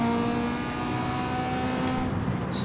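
Hyundai car engine in Need for Speed Underground 2 revving toward its shift point: a loud, steady high-pitched drone that climbs gradually, heard close with no speech.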